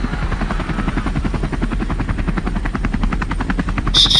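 Helicopters passing overhead in a game, a loud, close, rapid chop of rotor blades beating steadily, with a sharp electronic tone cutting in at the very end.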